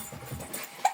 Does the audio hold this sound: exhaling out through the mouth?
no